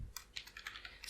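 Soft, quick keystrokes on a computer keyboard while writing PHP code, a steady run of close, quiet clicks spaced evenly across the short stretch, with no talking.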